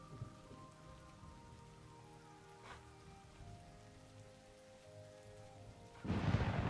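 Soft, steady rain falls in the video game Morrowind, quiet and distant, with a brief crack partway through and a louder rumbling burst of thunder rolling in near the end.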